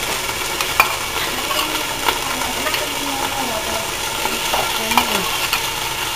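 Potatoes fry in a pan while being cooked for adobo, giving a steady sizzle with scraping and stirring clinks. Faint voices can be heard in the background.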